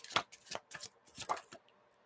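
A tarot card deck being shuffled: quick papery riffles and slaps in short bursts, about six in two seconds, close but quiet, with no talking.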